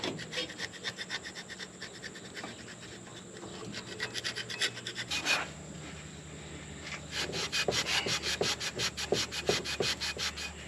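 Carbon buildup being scrubbed off the engine valves of a 1954 Plymouth Savoy, a close, continuous gritty rubbing and scraping in quick back-and-forth strokes that grows busier and more rapid toward the end.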